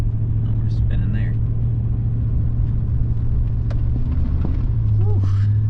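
A 3/4 ton pickup truck towing a heavy trailer spins its wheels on a slick, icy morning road in northern Minnesota. A loud, steady engine rumble and drone carries through the whole stretch, with short squealing tire or drivetrain tones near the end.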